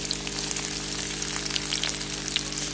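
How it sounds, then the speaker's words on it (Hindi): An onion sizzles in two spoons of well-heated oil in a pan, a steady crackling fry with dense spitting pops that stays close and continuous without any talking. "ऑयल अच्छी तरह गर्म हो चुका है और अब मैं इसमें एक प्याज डालूँगी"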